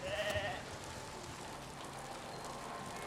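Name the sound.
sheep bleating, from the video game Foundation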